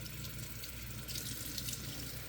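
Cold water runs steadily from a tap into a sink while a Barbie doll's hair is rinsed, a continuous hissing splash at moderate volume with no talk.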